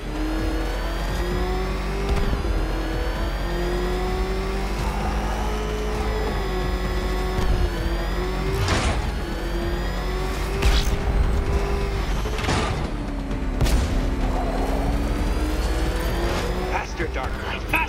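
Batmobile engine revving and driving in Batman Arkham Knight, a loud, sustained motor roar whose pitch climbs and falls with acceleration, punctuated by heavy impacts, while a voice talks over it.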